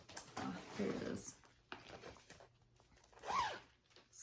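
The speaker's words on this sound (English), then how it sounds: "Sorry about all the zips." Several quick zips of zippers being opened on cross-stitch project bags, bursts of rasping pulls separated by short pauses, close and moderately loud with light handling noise between them.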